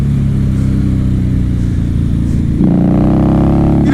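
A 2016 Harley-Davidson Night Rod roars close and loud as it accelerates out of a bend, a deep, throbbing engine note that climbs sharply in pitch near the end as the throttle opens.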